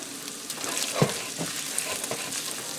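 Browned sausage sizzles in a pan with a little olive oil just added, a steady soft crackle and hiss throughout with a slightly louder burst about a third of the way in, close and fairly quiet, no talking.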